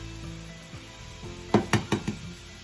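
Two eggs land on a hot flat hibachi-style griddle, giving a quiet sizzle followed by four sharp scraping spatula strikes in quick succession near the end.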